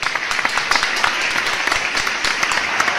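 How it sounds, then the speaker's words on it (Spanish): A church congregation applauds during a sermon, a steady, dense patter of many hands clapping at close range for the whole stretch. "Un aplauso a Cristo."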